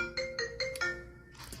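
An incoming phone call rings through a repeated electronic ringtone, several evenly spaced tonal bursts, clear and fairly close, with no one speaking.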